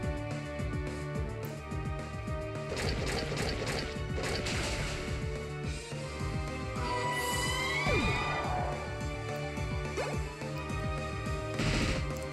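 Impact hits from a Crunch attack in Pokemon Alpha Sapphire, a run of sharp crashing thwacks and whooshes over steady game music, loud and close, with no talking.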